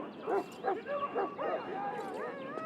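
A Mabari war hound from Dragon Age: Origins barks in short yips, several distinct barks over a few seconds, close and moderately loud, with melodic game music running underneath.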